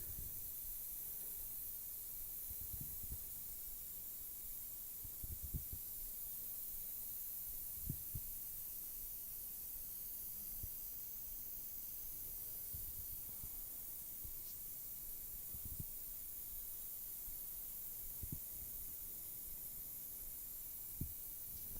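An airbrush sprays white paint onto a model from about six to eight inches away, giving a steady, faint hiss with soft low knocks and clicks scattered throughout.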